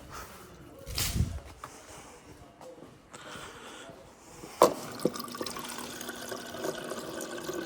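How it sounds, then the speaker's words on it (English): Filtered water from a new refrigerator's water tap in a garage trickles and splashes softly, with a couple of sharper knocks as voices talk nearby. "We got filtered water on tap."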